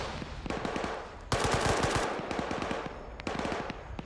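Dense automatic and single-shot gunfire in Arma 3 during a team esports match, with rapid bursts clattering close and loud, swelling into a heavier volley midway and continuing in uneven rattles, with no talk.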